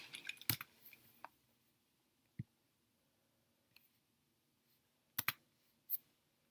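Sparse, quiet clicks of keys on a computer keyboard as a password goes in, a few isolated taps and small clusters spread over several seconds, close but faint in a quiet room.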